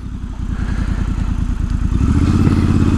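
A Triumph Scrambler 1200XE motorcycle being ridden, its engine throbbing steadily and loudly up close with a rapid pulsing beat that builds slightly toward the end, with no talk.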